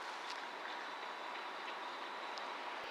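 A TGV high-speed train at the Lyon airport railway station, a steady faint rolling rumble of a passing train with light clicking, no voices.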